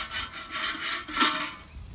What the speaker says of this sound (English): Scrape the grill.